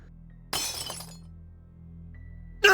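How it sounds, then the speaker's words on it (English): In the video game The Divine Speaker, a mirror is smashed with a loud, bright crash of shattering glass that rings out briefly. Near-silence follows, and a second burst of breaking glass starts at the very end. "With a crash, he smashed the mirror"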